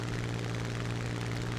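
A Spitfire Mk IX's piston engine in the video game War Thunder drones in a steady, dense roar with a low, constant propeller hum, loud and unbroken throughout.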